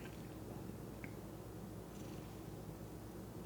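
A house cat purrs softly and steadily up close, a low continuous rumble with faint small clicks over quiet room tone.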